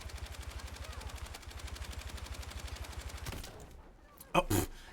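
Sustained rapid gunfire in Battlefield 6, a steady machine-gun rattle that cuts out abruptly and is followed by a single loud, close shotgun blast.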